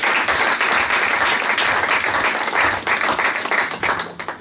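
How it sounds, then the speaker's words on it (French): A church congregation applauds and cheers loudly and continuously in praise, a dense wash of clapping with scattered voices that holds steady and ends as a few claps trail off. "Est-ce qu'on peut acclamer très fort pour la gloire du Seigneur?"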